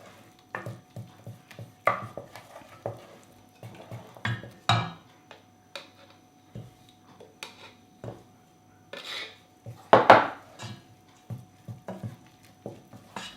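A spoon works breadcrumbs into a thick egg yolk and honey mixture in a bowl for a Tudor Lombard slice dessert, giving irregular close clicks and scrapes against the bowl with quiet gaps between them.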